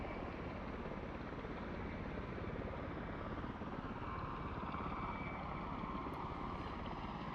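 A propeller plane drones steadily in flight, the loud, even engine and propeller roar filling the cabin without pause and with no talk.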